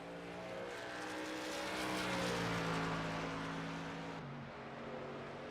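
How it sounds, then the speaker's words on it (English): Race trucks on a racetrack, a broad roaring engine drone that swells as they pass at mid distance and then eases off, with no voices over it. "They still have several trucks out on the track"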